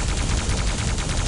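Rapid plasma gun fire spammed in an arena shooter game, a dense, steady stream of fast repeating shots, loud and continuous throughout.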